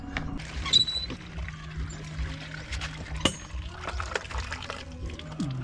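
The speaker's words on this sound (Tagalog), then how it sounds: "Pero bago lahat, hugasan po muna natin itong mga to." Water runs and splashes while vegetables are washed before cooking, a steady close pour with small knocks and clinks of handling throughout.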